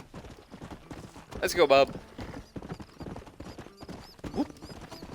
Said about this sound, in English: We are on this horse until we get to Armadillo.